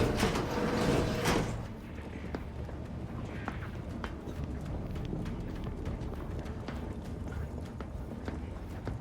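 A door slides open in The Outer Worlds 2 with a loud, breathy rush lasting about a second. Quieter game ambience follows, with faint scattered taps like footsteps.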